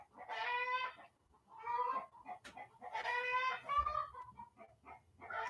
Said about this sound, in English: but the chicken is laying an egg.